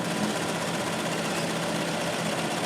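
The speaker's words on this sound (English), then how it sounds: "Hundreds of stitches must be made to sew a single Rolls-Royce logo into the leather. Fortunately, a machine can handle it." A sewing machine runs continuously, stitching a Rolls-Royce logo into leather, giving a steady, dense mechanical whir with fast rapid stitching at close range and no talk.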